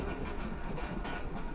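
A KRL commuter train at midnight rumbles heavily on old rails in the distance, a low, grinding, continuous roll with faint metallic scraping and no talk.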